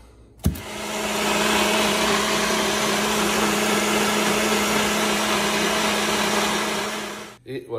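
Countertop blender whirring through a protein shake of almond butter and whey isolate, starting with a sharp click, holding a loud steady motor drone for several seconds, then cutting off abruptly.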